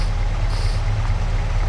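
A tractor engine in Farming Simulator 22 idles steadily, with a loud, constant low rumble running throughout and no voices heard.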